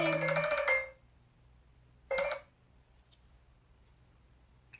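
A phone rings with an incoming call during a resin-pouring session: two short, bright electronic ringtone bursts separated by a pause, moderately faint over a quiet room.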